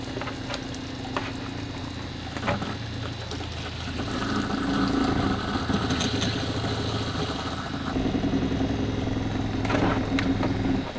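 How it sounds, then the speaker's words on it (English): A water pump runs while a Reflection 340RDS fifth-wheel camper is being winterized, giving a continuous buzzing hum that steps up in loudness partway through and continues steadily to the end. "Alright, pump just stopped."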